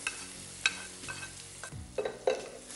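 Sambar powder frying in a little oil with a utensil stirring it, soft crackling sizzle under scattered scraping clinks and taps of the spoon against the pan, close and fairly quiet.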